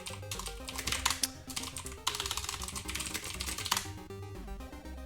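Busy keystrokes tapping out a password on a computer keyboard, dense and close, under a loud layer of tonal background music.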